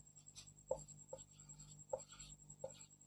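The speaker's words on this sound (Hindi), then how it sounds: "चलिए आगे लिख रहे हैं, जो चीज लिखा है उसको लिख दे रहे हैं" A pen or marker writing out the next step of a maths solution, several short scratchy strokes separated by pauses, faint and close with a steady hum underneath.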